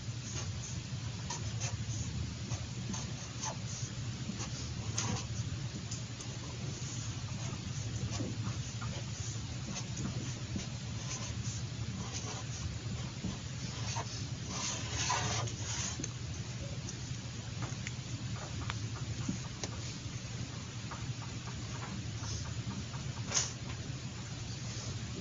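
Marker or chalk scratches across a classroom board as coefficients are written out, faint irregular strokes and taps under steady room hum, with no talking.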